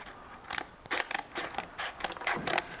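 Scissors snip through a cardboard template for a 1969 Firebird and Camaro mini tub install, a run of crisp, rapid cuts in quick bursts, close and alone without talking.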